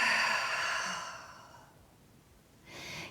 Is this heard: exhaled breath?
yes